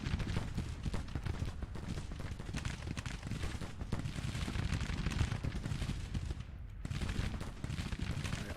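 Massed musket volleys and artillery from a Grand Tactician: The Civil War battle, a continuous rolling crackle of distant gunfire with dull booms, steady and dense throughout, briefly dipping before resuming.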